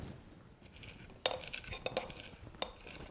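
A muddler presses jalapeño slices and pineapple chunks in a metal cocktail shaker, making soft mashing sounds with a few sharp metallic clinks, close and quiet.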